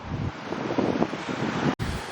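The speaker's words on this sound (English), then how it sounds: "Excuse the wind" Wind buffets the microphone at a seaside lookout on Australia's east coast, a loud, steady rumbling roar with gusty swells and a brief dropout near the end.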